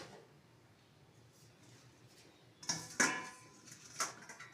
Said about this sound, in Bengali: একটা ঢাকাও আমি দিয়ে দেবো উপর দিকে